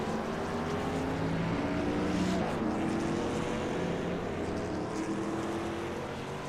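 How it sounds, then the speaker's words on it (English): Stock cars in a Talladega racing game pull away off pit road together, a steady loud engine drone with layered tonal whines holding throughout. "Race off of pit road"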